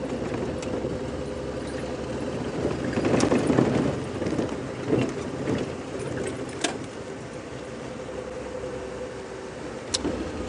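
A safari vehicle driving through the Djuma reserve, a steady low engine rumble and road noise running throughout, fairly quiet and even, with occasional small knocks and rattles.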